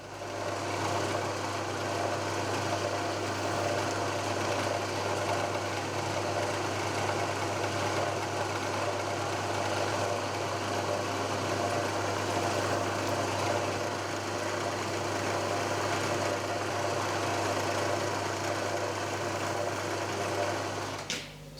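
A drilling machine hums continuously while spot drilling holes in an aluminium vice casting, a steady mechanical whir with constant low motor tone and a faint grinding texture, unchanging throughout and with no voices.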